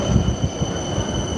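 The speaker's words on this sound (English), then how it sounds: "more trams" A tram rolls past on rails along a Helsinki street, a steady close rumble with rattling wheel noise and a faint high squeal, no voices.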